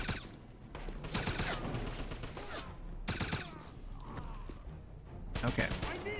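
Gunfire in Wolfenstein (2009) on Xbox 360 comes in sharp bursts of rapid shots, separated by short pauses, loud and close with game sounds between and occasional talk.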